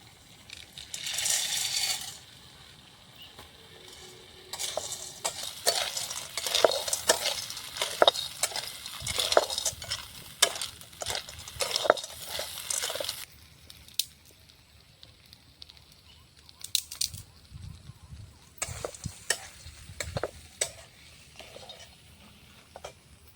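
Pasta added to a pot and stirred at a camp cooking fire: rattling, clinking spoon-and-pot scrapes in busy bursts, then quieter stirring with occasional clatters.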